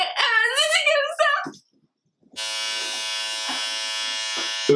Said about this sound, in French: On n'a pas de baignoire et t'as qu'un rasoir électrique.